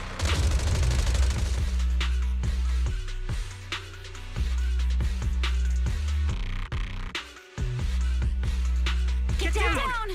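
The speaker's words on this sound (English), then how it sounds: "Gunfire? This pattern. Suppressive marching fire." Volleys of suppressive gunfire in the video game Zenless Zone Zero, repeated sharp bursts and booms over a tense musical score, with a character's voice breaking in near the end.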